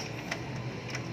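An HP Smart Tank 515 inkjet printer runs its ink cleaning cycle, a low steady mechanical whir with faint rhythmic ticks, close and quiet, with no talking.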